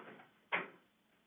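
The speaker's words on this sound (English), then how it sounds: "let me just close my door, it's noisy in the hall" An office door swings shut with a single firm thud, close and brief, cutting down faint hallway noise that fades into quiet afterward.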